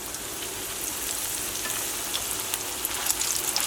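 Pieces of farmhouse-style chicken fry in hot oil in a pan, giving a steady loud sizzle with small crackling pops scattered through it and no talking.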